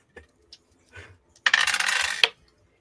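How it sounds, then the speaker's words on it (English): A die dropped on a table during a tabletop roleplaying game session lands with a bright clattering rattle lasting under a second, after a few faint taps, with no talk. "Dropped one of my dice."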